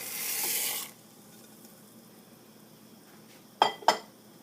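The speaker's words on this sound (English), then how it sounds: "So now I'm going to transfer the peas into the pot." Peas tipped into a cooking pot for a lentil pea stew, a broad rushing clatter for about a second, then a quiet pause and two sharp metallic clinks close together near the end.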